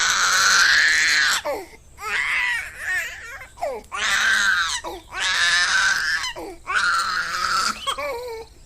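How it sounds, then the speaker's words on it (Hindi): A baby cries loudly in a horror-story sound effect: repeated wailing bursts separated by short breathy gaps, close and dominant, with no other voices. "तभी एक बच्चे की बहुत जोर जोर से रोने की आवाज आने लगी"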